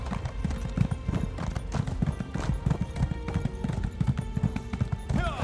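A horse gallops while being ridden in Elder Scrolls Online, its hooves striking in a quick, steady clip-clop rhythm that stays close and fairly loud throughout, with a short whinny-like sweep near the end.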